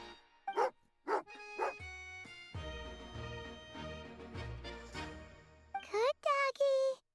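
A video game dog in Genshin Impact gives several short, bright barks and yips, then a character voice speaks over game music, and more quick yelping barks follow at the end.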